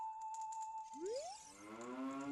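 A cartoonish cow moos in Zelda: Ocarina of Time, a rising bovine call sliding upward after a steady tone from a played song, alone and fairly loud.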